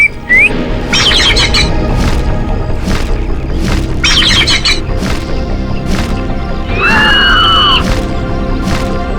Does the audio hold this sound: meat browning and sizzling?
no